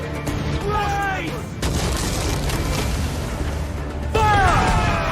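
Ship cannons firing in the pirate game Assassin's Creed Black Flag, heavy booming volleys over a constant roar of sea and battle, with shouted crew voices and whistling projectiles layered throughout.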